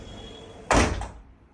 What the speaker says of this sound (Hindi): अभी आप देखिए मैं विंडो बंद कर रहा हूँ